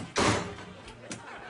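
A door slams with one heavy, close thud, followed by a softer knock a moment later and a little background room noise.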